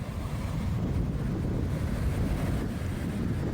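Ocean surf rolls steadily beside an old seaside cemetery in San Juan, Puerto Rico, a loud continuous wash of waves mixed with heavy wind buffeting the microphone, with no voices.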